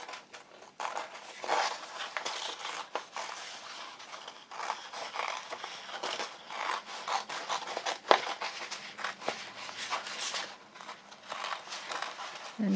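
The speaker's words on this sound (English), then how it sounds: "cut around this kind of roughly, and then I'll try and trim it up a bit. It's a bit wet for cutting" Scissors snip and rustle steadily through damp paper being trimmed roughly for a handmade fairy-themed journal, close and continuous with crinkling handling sounds throughout.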